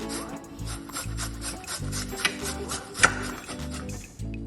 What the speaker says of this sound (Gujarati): હવે હું આ રીતે નાની છીણીથી છીણું છું.